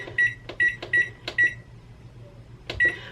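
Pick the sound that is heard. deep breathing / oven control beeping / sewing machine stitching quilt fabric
oven control beeping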